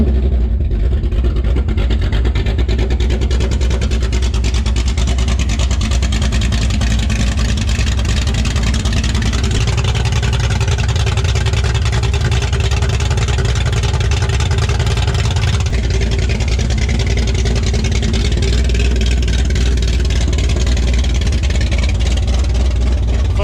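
Ford 351 Cleveland V8 in an XD ute, running straight pipes with no exhaust, idles loud and steady for the whole stretch with a deep throbbing rumble, close by and never letting up.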